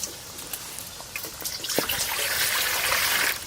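Water poured from a container into a cooking pot while cooking shing fish in a rural village style, a steady trickling stream that grows fuller and louder, with a few small clinks and splashes early on.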